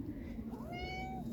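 A pet cat named Elsa gives a single drawn-out meow, clear and close, rising then holding before trailing off, over a quiet room hum.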